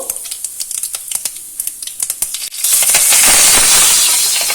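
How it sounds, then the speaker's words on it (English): Mustard seeds crackle and pop in hot oil in a kadai, with sharp irregular snaps at first that build into a loud, dense sizzling hiss. "Let the mustard crackle a little bit so you'll get a good flavor."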